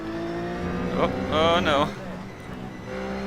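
Race cars in an iRacing Blancpain event at Road America, a steady engine drone with rising and falling revving whines as cars pass close by, while a person speaks briefly.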